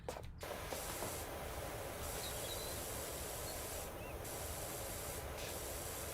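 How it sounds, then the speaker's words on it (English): Steady power washer spray hissing against a garbage can in Power Wash Simulator, a continuous even rush of water noise with no breaks, moderately quiet. "you're just crouched, just spraying this garbage can"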